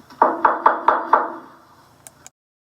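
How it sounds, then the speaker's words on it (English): Five firm, evenly spaced knocks land on a wooden door on a school theatre stage, followed after a pause by two lighter taps, all close and clear in an otherwise quiet room. "Suddenly, there was a knock at the door."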